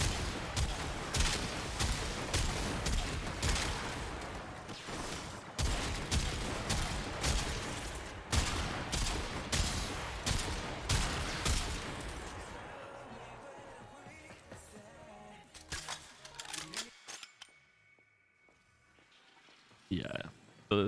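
Rapid, loud gunfire from the Trumna primary fire in the video game Warframe, with dense bursts of shots for about twelve seconds, then sparser scattered shots and impacts, with a voice talking over the action.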